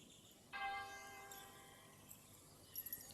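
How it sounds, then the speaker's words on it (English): A church bell for a prayer meeting strikes once and rings out with a rich, sustained tone that slowly decays, heard faintly at a distance over a hissy background. "That's the prayer meeting bell."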